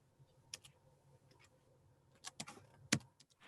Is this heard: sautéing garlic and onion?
no